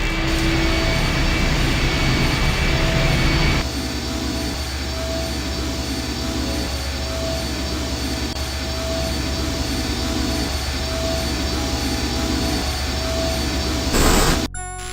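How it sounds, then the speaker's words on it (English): A vehicle engine starts up and settles into a steady, loud roaring drone with a constant whine on top in the game I Have No Mouth, And I Must Scream, shifting slightly in tone partway through and cutting off at the end. "The engine's starting up again."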